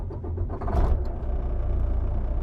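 A truck engine turns over with a key and catches, settling into a loud, close, low steady rumble.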